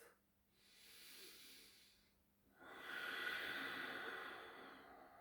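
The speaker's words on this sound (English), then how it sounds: "Taking one more full deep breath." A slow, deep breath during a dynamic vinyasa yoga practice: a soft inhale swells and fades, followed by a longer, fuller airy exhale, close and quiet.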